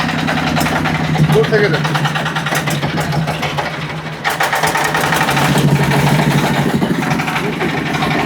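A three-wheeled generator's engine runs at a loud, steady idle with a rapid chugging beat, while someone speaks over it.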